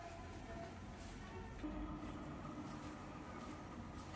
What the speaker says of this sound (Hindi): 1 मिनट ट्रेन आ रहा है